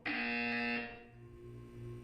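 A loud, steady electronic buzzer from the Portal 2 video game sounds alone for about three-quarters of a second, then cuts off, leaving a quieter low hum behind.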